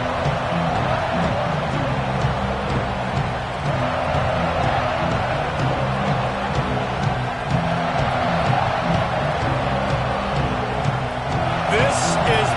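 Football stadium crowd in Oregon roaring steadily around a kickoff, a dense continuous wash of cheering and whoops that stays loud throughout, with a brief sharper burst near the end.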